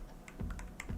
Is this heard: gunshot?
no